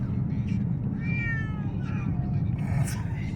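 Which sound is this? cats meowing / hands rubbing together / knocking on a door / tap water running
cats meowing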